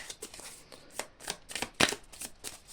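Oracle cards shuffled and drawn by hand, a close, busy run of papery riffles and sharp card snaps that comes in quick irregular bursts, with one louder slap partway through and no voices.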